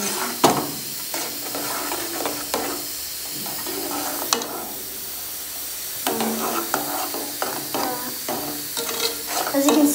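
Blackberry jam with lemon being stirred in a pot as it reduces, with repeated scraping strokes over a steady bubbling sizzle and hiss, close and moderately loud, no talk.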